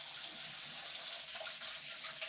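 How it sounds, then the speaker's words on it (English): A pan being rinsed under a running kitchen tap, giving a steady close hiss of flowing water with slight splashy variation throughout and no talking. "Let me rinse out this pan real quick here while we're waiting."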